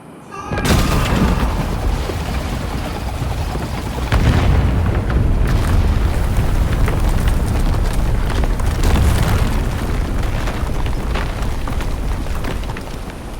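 Explosions tear apart a place of great power in the video game Avowed, a long, loud stretch of booming blasts and rumbling destruction with repeated heavy impacts rolling on for over ten seconds.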